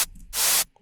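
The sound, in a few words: white noise from Operator synth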